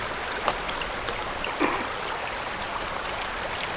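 Small streams trickle through lush green woodland, a steady broadband wash of running water with a couple of brief splashy accents, close and continuous, with no voices.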